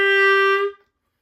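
A single sustained B-flat clarinet note at the top of a beginner's scale, bright and steady, played alone up close and cut off cleanly after under a second.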